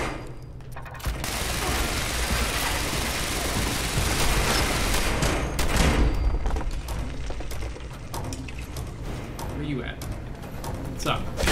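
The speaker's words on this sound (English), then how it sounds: "I have to use a gun to kill it, even though I didn't have to use a gun" Gunfire in Fallout 76, a dense, continuous barrage of loud rapid shots with mechanical clatter that keeps going for several seconds.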